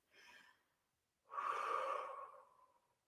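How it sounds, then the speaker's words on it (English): A deep, conscious breath: a short soft intake, a pause, then a long audible exhale that trails off, close and quiet in an otherwise silent space. "to really take a conscious breath"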